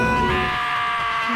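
A scream-like cry in the Danganronpa video game: a sustained, loud, tonal wail with a strained, bleating edge that carries through a short moment alone, without speech.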